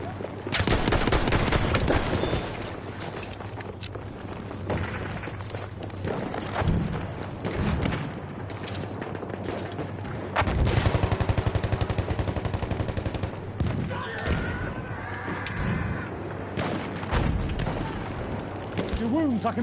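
Rapid gunfire from a player's favorite weapon in the Battlefield 1 game, dense crackling bursts and booms running almost throughout, louder stretches near the start and middle, with distant battle noise and a voice talking over it.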